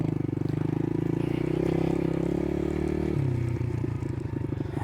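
ATV engine running close by during a beginner ride, a steady chugging idle-like drone that shifts lower partway through as the throttle changes, with no talking.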